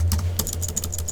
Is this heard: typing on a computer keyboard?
yes